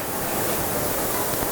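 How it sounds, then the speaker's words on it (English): Storm wind outside a workshop housing a 100W CO2 laser cutter, heard as an unbroken, fairly loud rushing hiss like surf, steady throughout with no voices. "I've got a bit of a storm brewing outside, so excuse the wind noise."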